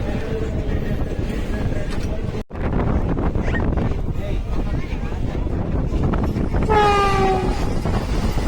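Tirunelveli to Purulia SF Express pulling out of Arakkonam: a loud, steady rumble of carriages with heavy wind buffeting close by, a short dip, then a rising horn-like tone near the end.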